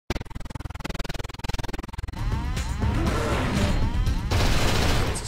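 Gunfire in the video game Cold Fear. A rapid, regular volley of shots gives way to a sustained, loud roar of continuous fire and noise.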